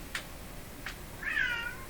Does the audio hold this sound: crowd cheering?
no